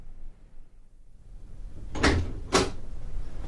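A door in a radio drama opens with two short wooden knocks or clunks about half a second apart, close and fairly loud after a quiet room hush.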